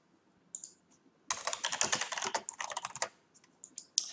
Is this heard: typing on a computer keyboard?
yes